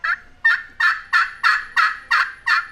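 Eight loud, evenly spaced turkey yelps from a friction pot call, rasping and close, each note a short sharp burst in a steady rhythm.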